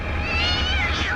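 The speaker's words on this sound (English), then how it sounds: "Minu's a local cat that hangs around the airport" Minu, a local cat that hangs around an airport in Kourou, gives one drawn-out, wavering meow over a steady low rumbling drone, with no other voices.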